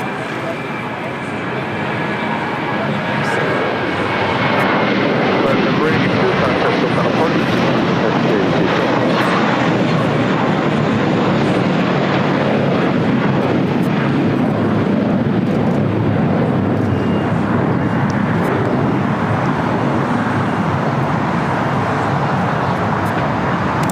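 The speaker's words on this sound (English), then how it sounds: "Ita now rolling down at 2-4 right" An ITA Airways airliner rolls down runway 24 right at LAX, a steady loud roar of engines and rushing air building over the first few seconds and holding broadly throughout, with faint background voices mixed in.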